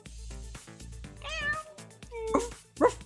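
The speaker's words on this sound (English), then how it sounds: "I think that's what that meow means" A cat named Rexy meows several times close by, a string of short and drawn-out meows with no talking over them.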